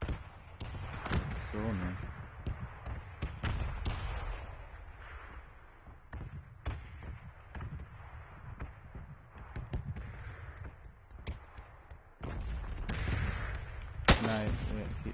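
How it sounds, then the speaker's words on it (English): Gunfire in the battle royale game PUBG crackles as repeated sharp shots, some in quick bursts, under a dense game-ambience background while a player talks over it. "Oh, he's firing from there."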